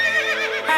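A Minecraft horse gives a short, shrill whinny in the game, loud and close, with no voices over it.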